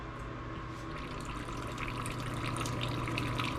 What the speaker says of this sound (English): I thought I'd drain the radiator,